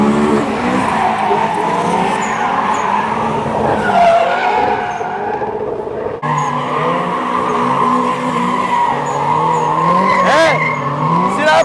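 Drifting cars at a Japan car festival scream their tires in long continuous skids alongside engine roar, loud and close to the track with spectators nearby, and a voice speaks briefly.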